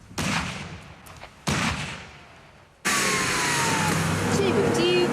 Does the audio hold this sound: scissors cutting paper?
no